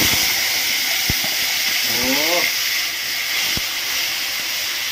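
Spices and a garlic-onion paste tempering in hot oil while cooking janhi posto, a steady loud sizzling hiss throughout with a few faint clicks, no talk.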